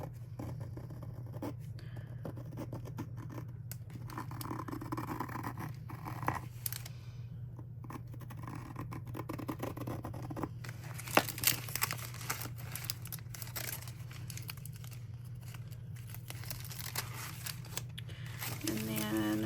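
Scissors snip pieces of washi tape on a cutting mat, with scattered crinkling, rustling and soft scraping of tape and paper over a low steady hum.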